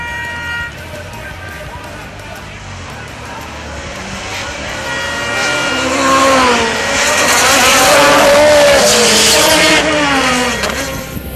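Race cars in a CMRC Group 4 race at Dover, Jamaica, including an Audi, with engines droning and rising in pitch as they pass close by. A commentator talks over the engine noise.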